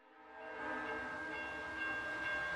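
A train sound effect swells in, a loud sustained horn tone over rolling rail rumble that holds steady for a couple of seconds, with no voices.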